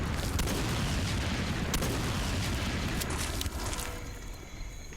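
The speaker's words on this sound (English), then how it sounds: "I'm just going to use the pistol to blow up all the gunpowder barrels" Gunpowder barrels shot with a pistol explode in the video game Jurassic: The Hunted, a dense rumbling roar of blasts with sharp cracks running together before trailing off toward the end.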